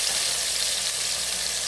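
Onion and tomato sautéing in a pan, a steady loud sizzle with constant hiss and no pauses.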